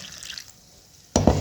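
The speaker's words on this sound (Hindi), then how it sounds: "वाटर, थोड़ा सा पानी ऐड किया" A short splash of water poured into a bowl of mixed egg yolks for a soft doughnut dough, arriving suddenly and fairly loud after a near-silent stretch.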